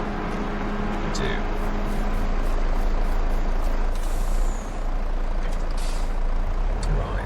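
A lorry in Farming Simulator 22 rumbles steadily and loudly, with sharp hissing air-brake releases breaking through the engine drone near the middle and end.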